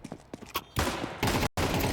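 Rapid gunfire from a competitive Counter-Strike style shooter match at BLAST Bounty 2025, TNL versus NAVI, loud sustained bursts after scattered single shots, with a brief break before the firing resumes.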